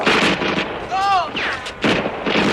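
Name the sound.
gunfire in a film scene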